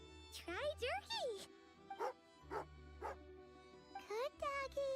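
A dog in the video game Genshin Impact gives a run of bright, pitched barks and yips in quick bursts, fairly faint, with short pauses between them.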